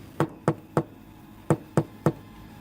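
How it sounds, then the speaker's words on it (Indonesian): Six soft knocks on a house door in the evening, a gentle group of three followed after a pause by another three, close and distinct against a quiet background. "Ia pun kemudian mengetuk pintu dengan pelan."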